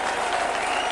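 A rugby league crowd at a St Helens versus Widnes match applauds a try by a Saints front-row forward, with steady dense clapping and cheering that fills the whole moment at even loudness.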